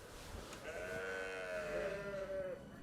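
Ewes bleat on a high mountain alpine pasture near Rossinière, below the Dent de Corjon, with several overlapping wavering calls sustained across the clip over a steady outdoor background.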